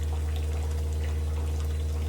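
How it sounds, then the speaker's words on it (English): Warm water poured into a pork belly soup, a steady rushing pour with a constant low hum beneath, close and unbroken throughout. "have some warm water added in the soup"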